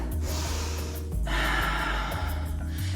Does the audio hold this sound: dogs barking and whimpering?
no